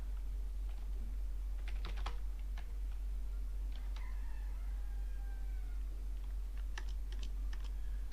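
Keys pressed on a computer keyboard, a few scattered clicks and short taps in small bursts over a steady low hum, with a faint tone in between.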